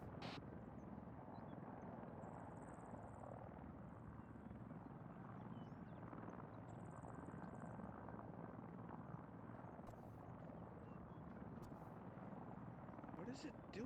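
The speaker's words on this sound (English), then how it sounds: "That's a Hind, alright." A Mi-24 Hind helicopter in a military video game hovers and flies nearby, a steady low rotor drone running throughout with faint chirps and clicks above it.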